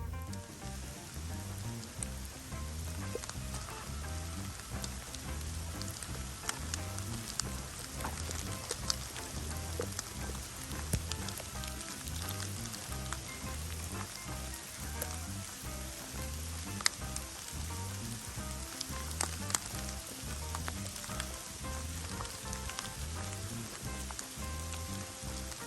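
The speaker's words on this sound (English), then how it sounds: "it would pour down rain just as we were getting ready" Heavy rain pours down steadily at a plantation, a dense, continuous patter and hiss of drops striking surfaces that holds at an even level throughout, with no voices.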